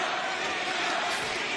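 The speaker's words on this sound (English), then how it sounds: "The crowd chanting Mina, getting behind her." Wrestling crowd at an AEW title-versus-title match chanting the name of Mina Shirakawa, a dense, steady roar of many voices filling the arena with no break.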